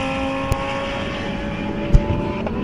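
A GT race car, number 45, runs at Redstar Raceway with a steady, moderately loud engine drone and tonal whine, broken by a couple of brief sharp clicks or bumps.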